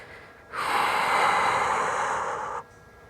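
One long, forceful exhale lasts about two seconds, close and breathy, from a person holding a heel raise during an ankle and lower-leg posture exercise, with quiet room tone before and after.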